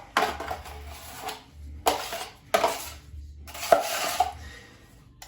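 A metal knife scrapes and stirs drywall mud in a pan, with four separate bursts of gritty scraping and clinking separated by short pauses, close and fairly loud, with no talking.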